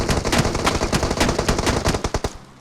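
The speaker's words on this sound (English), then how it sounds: "More shots coming in" Rapid bursts of automatic gunfire in a shooter video game, loud and close, with dense overlapping shots and a few sharper single cracks toward the end.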